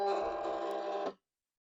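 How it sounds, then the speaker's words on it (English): A Silhouette cutting machine whirs as it feeds the cutting mat in, a steady close mechanical hum that stops abruptly, leaving silence. "We'll go ahead and turn on the machine and then get our mat loaded in like normal."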